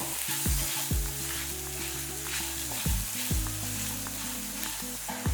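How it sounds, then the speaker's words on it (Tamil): Ingredients being sautéed in ghee in a stovetop pan, from a sprouted green gram and snake gourd kootu, with a steady frying sizzle broken by a few sharp scrapes of stirring, close and fairly loud, and no talking. "ஸ்டவ்வாக பண்ணிட்டு இந்த நெய்லேயே இதை எல்லாத்தையும் வதக்கிடுவோம்"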